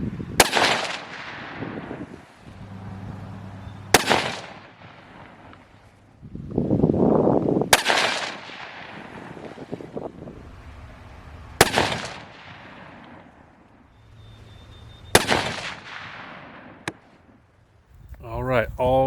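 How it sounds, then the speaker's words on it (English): A 7mm-08 rifle with a 22-inch barrel fires four loud, sharp shots at roughly four-second intervals, each cracking out and decaying quickly, with someone talking in the gaps between them. "The 4th round that I just shot was max"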